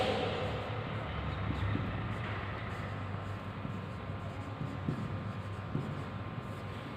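Chalk or marker scratching steadily across a classroom board, a continuous dry scraping with small strokes, alone with no voices.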